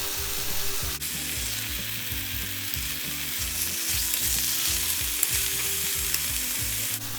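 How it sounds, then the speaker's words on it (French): Slices of pork sear and brown in a hot pan for a ginger pork shogayaki, giving a steady, close, loud sizzle and crackle with no talk over it. "Ce qu'on veut, c'est de griller chaque face et de les dorer."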